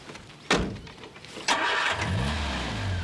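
Car engine starts with two sharp cranking bursts, then settles into a steady, close low idle and rumble with no voices.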